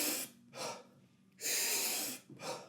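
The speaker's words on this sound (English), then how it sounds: "it's taking like 30 really, really deep breaths, and then you let the breath out" Deep Wim Hof method breathing: long forceful inhales and exhales alternate in an uneven rhythm, close and breathy, with no talking.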